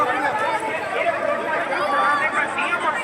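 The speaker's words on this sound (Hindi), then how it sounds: "इस वक्त कथा के पंडाल के बाहर की भीड़ देख रहे" Dense crowd chatter outside the Shiv Mahapuran katha pandal in Astagaon, Ahmednagar, on the third day of the religious gathering: many overlapping voices form a continuous, fairly close hubbub.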